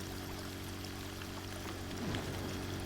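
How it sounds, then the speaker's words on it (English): Pumped water pouring into a river in Drain Sim, a steady dense rushing hiss with a low hum underneath, continuous and moderately close. "And then it's going to start sending the water down into the river."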